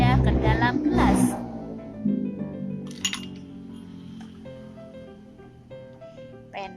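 A pencil drops into a glass and clinks brightly a few times with a ringing tail, and a voice talks over and between the clinks.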